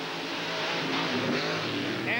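Monster trucks Carolina Crusher and Nightlife Chevrolet roar side by side in a 1990 TNT Monster Truck Challenge race at Flemington, New Jersey, their loud engines droning steadily under an announcer's voice.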